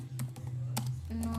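Computer keyboard typing: a short run of light, close key clicks in a quiet room, ending with a firmer press of the Enter key.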